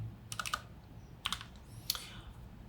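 Keys on a computer keyboard are struck in three short bursts of quick clicks, close and fairly quiet, separated by brief pauses.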